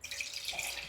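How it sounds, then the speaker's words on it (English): Tap water runs into a drinking glass being refilled, a close, bubbling trickle with a gently rising pitch, lasting about a second with no talking. "I'm gonna refill my water."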